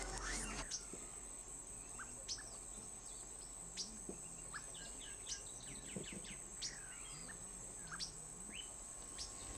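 A sabiá thrush sings in the morning, short fluted phrases repeating every second or so, moderately distant over a constant high insect drone and soft outdoor hiss.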